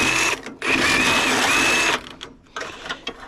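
A Sawzall reciprocating saw cuts through a pipe, a loud, dense buzzing run for about a second and a half with a steady whine, then stops and leaves a few short clanks and scrapes.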